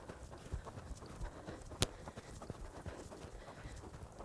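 Hooves of Buck, a ridden horse, clip-clopping along in a steady, fairly quiet rhythm against low background noise, with one sharper knock partway through.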